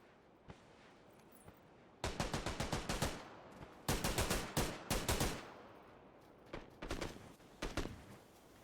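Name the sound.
gunfire in video game PUBG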